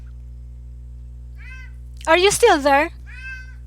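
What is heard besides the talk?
cat meowing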